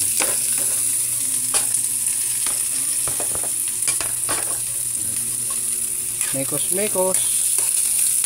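Onion and garlic sautéing in hot oil for a chicken mami soup, a loud continuous sizzle with scraping stirs and clattering utensil knocks near the end, and a brief spoken word over it.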